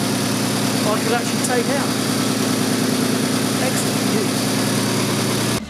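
A Jaguar AJ30 engine idles with a steady, loud, even hum after an oil leak repair, while someone talks over it before the sound cuts off at the end.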